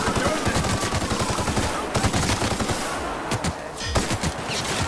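Gunfire from The Outer Worlds: sustained rapid shooting fills the whole stretch, dense and loud, with overlapping bursts and brief lulls.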